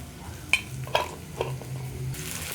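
Food being stirred in a frying pan with sliced peppers, salt and pepper, a low steady sizzle running throughout while a few soft utensil scrapes and taps land against the pan.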